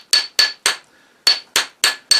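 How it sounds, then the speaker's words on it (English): Seven sharp metallic taps as a hammer strikes a silver ring on a steel mandrel, a short gap splitting a group of three from a group of four, each bright ringing hit decaying quickly. "It makes it round, but it also tests that joint, because I'm hammering on this."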